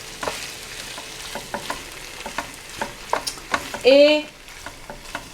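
Marinated beef for an Asian-style stir-fry frying in a sauté pan, with a steady soft sizzle and repeated scraping stirs, a brief louder hiss of fresh sizzling midway, and a short spoken word.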